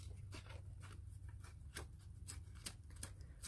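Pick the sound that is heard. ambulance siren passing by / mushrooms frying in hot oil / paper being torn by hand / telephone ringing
paper being torn by hand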